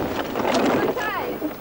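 Wind at sea aboard the pilot cutter Eve of St Mawes, a steady breathy rush buffeting the microphone, with a voice speaking over it throughout.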